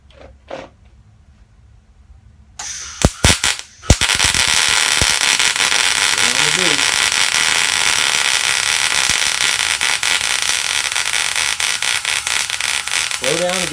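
A welding gun feeding filler metal lays down a bead with a loud, steady crackling buzz after a few sharp starts, while a voice speaks briefly underneath.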